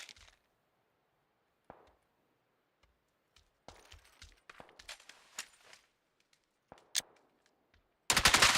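Gunfire in the Wild West shooter game Far Far West: scattered sharp shots crack out of near silence, some single and some in quick clusters, with a loud sustained burst at the end.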